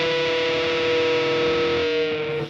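Electric guitar through a fuzz pedal playing a bent note on the G string at the 15th fret, a thick sustained distorted tone that holds steady for over two seconds before cutting off, alone without talk.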